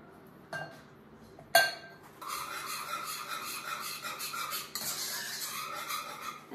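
Sugar mixture being stirred in a bowl for queijadas, a close, steady scraping and clinking of utensil against the bowl with a couple of sharper knocks near the start, no voices.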